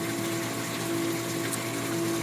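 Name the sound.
bulk reef supply 150 gallon per day RO/DI unit running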